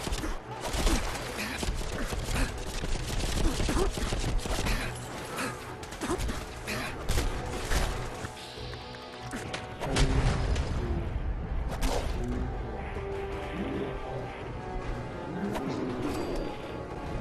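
Sword swings striking an enemy in Fallout 4 with an Overwatch weapons mod, a dense run of heavy impacts, crashes and whooshes layered over continuous game noise and music, loud and busy throughout with no clear pauses.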